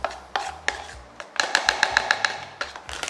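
A spoon stirs a Greek yogurt mixture in a bowl, giving a run of sharp clinks and taps against the sides, irregular at first and then quicker and rhythmic, close and fairly quiet.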